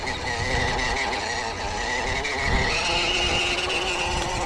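A cheap little RC truck runs on its high speed setting, a thin buzzing motor whine with rattling and scuffing noise, continuous and fairly close.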